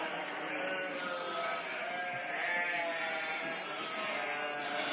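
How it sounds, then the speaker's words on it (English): A crowd of goats bleats in overlapping wavering cries, a continuous dense chorus heard at moderate distance with no clear pauses. "Enjoy all these damn goats."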